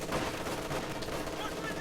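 Machine gun fire, a weapon other than the MG42 with a slower rate of fire, during a competitive World War II shooter match. It sounds as a dense, continuous roar of gunfire throughout, with commentators' voices mixed in.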